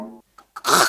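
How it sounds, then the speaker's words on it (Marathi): A single man's throat clearing, close and brief, with a short voiced sound followed by a harsh, raspy burst. "मी खाकरलो."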